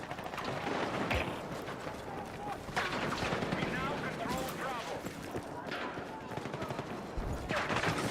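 Submachine gun fire in the Battlefield 6 shooter, close-quarters combat: dense, continuous bursts of rapid shots and distant explosions running throughout, with a voice talking over the gunfire.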